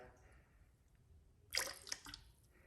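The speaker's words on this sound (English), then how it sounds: "So I'm going to put some rinseless wash in it" Rinseless car wash concentrate is poured into a bucket of water: a short, faint splashing pour with a couple of drips, then quiet.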